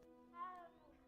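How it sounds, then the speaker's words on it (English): A cat in a video game gives a single short, thin meow that rises and then falls. It is quiet and heard alone over a faint steady hum. "You can pet a cat in it. It purrs and everything."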